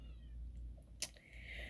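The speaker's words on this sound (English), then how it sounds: "That's my other cat who's meowing, if you can hear that." Indoors, a pet cat gives faint, drawn-out meows in the background, with one brief sharp click partway through and no talking.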